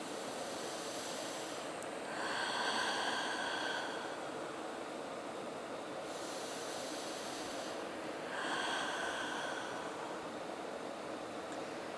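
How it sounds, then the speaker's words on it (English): Slow, deep breathing during a yoga stretch on a mat, two long hissing swells of breath rising and falling under a steady background hiss, with no talking. "Two more long, deep breaths here."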